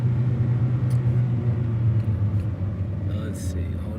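A car's low engine rumble and road drone hold steady while driving, a constant hum beneath someone talking nearby.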